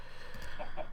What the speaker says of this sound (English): He's my pet chicken.